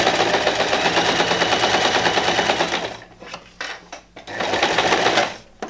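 A domestic sewing machine stitches two pinned fabric edges together 1 cm from the edge, running steadily at close range, then breaking into short stop-start bursts before a final steady run.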